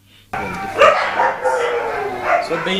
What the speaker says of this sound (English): Just a few meters from here is a man's best friend, dogs.